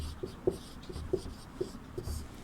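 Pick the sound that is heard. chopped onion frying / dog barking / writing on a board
writing on a board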